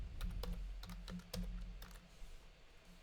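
Quick, close clicking of computer keys, a rapid uneven burst of typing that thins out toward the end, quiet and alone with a faint low hum beneath.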